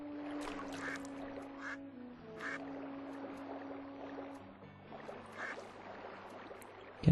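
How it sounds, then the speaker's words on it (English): A duck quacks repeatedly in the fishing area of Zelda: Twilight Princess on GameCube, with short honking calls over a steady game soundscape, watery splashes and droning tones. "Get out of the way, duck."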